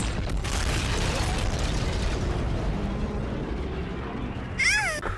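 A UFO explodes in the Zombies in Spaceland video game, a dense, sustained roaring blast with layered debris noise that ends in a short burst of warbling electronic tones.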